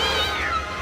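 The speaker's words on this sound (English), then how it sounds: "Ramon looks up and notices the terrified cat" A frightened cat gives one short, strained, wavering meow, close and loud, over a low steady background rumble.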